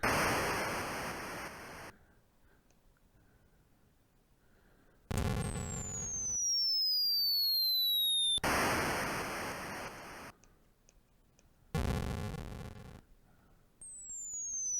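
Artillery fire and explosions in the Atari 8-bit game Beach-Head: loud bursts of harsh noise alternate with descending whistling tones and short quiet gaps, repeating across the stretch.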